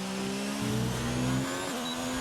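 A race car in a racing video game driving a flying lap at Austria, its engine droning steadily and loud, with pitch shifts as it changes gear and revs through corners.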